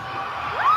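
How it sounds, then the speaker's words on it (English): A crowd at a fan convention screams and cheers from a distance, a brief thin burst of high shrieks that swells at the end. "Why are the screams all so distant?"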